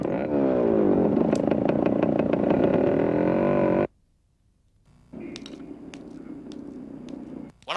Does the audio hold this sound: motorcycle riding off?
yes